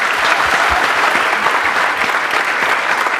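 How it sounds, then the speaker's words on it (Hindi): Audience clapping at a live science show, a steady burst of applause from a crowd filling the whole moment, dense and even with no talk over it. "चलिए पहले तो इनके तालियां बजा दीजिए। Big round of applause for both of them."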